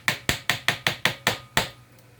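A hammer taps a block of wood held on top of it to seat a bushing in a Keystone bushing machine, giving eight sharp, evenly spaced knocks close by, each ringing briefly, with no talk.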